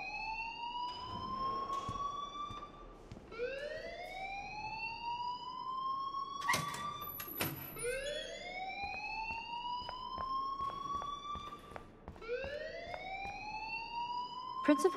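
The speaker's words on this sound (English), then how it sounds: "please turn off that alarm since that's your job" A school alarm wails in Life is Strange, a repeating rising siren sweep that climbs and resets every few seconds, loud and continuous, with voices and a few sharp knocks underneath.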